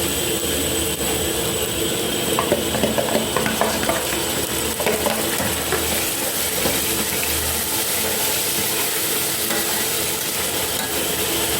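Tomatoes tipped onto browned onions, garlic and ginger frying in a pan, giving a steady broadband sizzle with faint scraping and stirring clicks throughout, with no talk.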